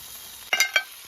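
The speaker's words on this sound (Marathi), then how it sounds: "आणि आता पटकन खेकडे पण शिजत आहेत मस्त" Crabs cooking in a pot over an outdoor fire for crab biryani, with a faint steady sizzle and two brief clattering stirs.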